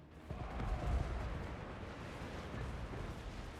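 Organ gun volleys in the fantasy battle game Dwarfs: The Book of Shame, heard as a loud, dense rumble of booming shots peaking early and continuing as a sustained roar of battle noise.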